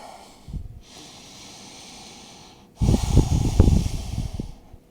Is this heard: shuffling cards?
no